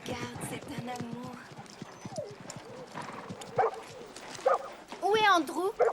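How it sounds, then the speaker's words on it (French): A small dog yaps and barks several times, close and fairly loud, mixed with people talking over it. "Andrew, c'est un chien."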